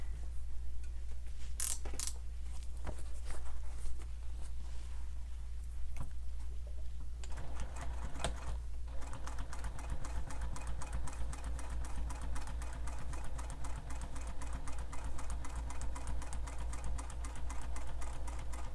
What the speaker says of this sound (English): we are going to top stitch this curved edge here